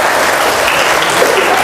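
A church congregation fills the space with loud, dense, continuous applause and cheering, one steady roar of clapping from many people.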